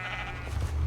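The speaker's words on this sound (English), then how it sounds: "Is there a chicken in here? A sheep, okay." A Minecraft sheep in the FTB Unleashed modpack bleats once, a short, fairly close wavering cry rising over a low background hum.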